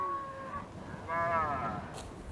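Cattle out on the open range low from near by, first one long moo and then another drawn-out bellow, over quiet outdoor background.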